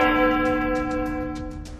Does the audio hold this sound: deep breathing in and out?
no